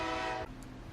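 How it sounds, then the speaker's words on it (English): A passing train sounds a steady, sustained horn blast that breaks off suddenly, leaving a low rolling rumble of the train at a moderate distance. "the train just passed by"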